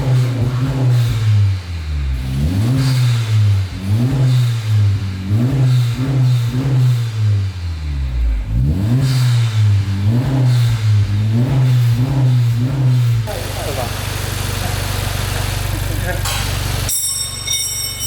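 A Honda Civic RS fitted with a new stainless steel downpipe exhaust revs repeatedly in loud, rising-and-falling blips up close, then settles into a steady idle drone near the end.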